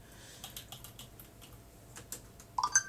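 A WiFi password is typed on a computer keyboard for a Raspberry Pi setup, heard as a sparse run of quiet, close key clicks ending in a few louder, sharper presses.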